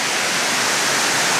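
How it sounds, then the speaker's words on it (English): Close, loud roar of a waterfall in the rainforest region around Cairns, a dense unbroken rush of falling water with no voices. "There's some really amazing waterfalls up here in Cairns, in the surrounding region."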